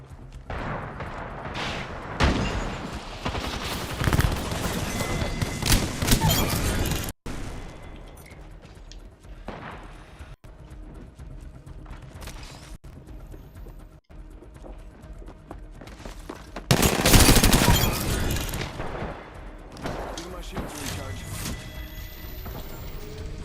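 Gunfire in the Apex Legends video game, bursts of shots and impacts in a busy match mix, with a voice talking over parts of it.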